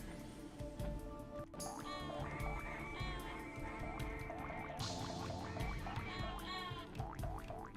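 Cartoonish duck quacks in a Frogger randomizer video game, repeated bursts of squawky quacking over busy game music and effects, steady and fairly loud throughout.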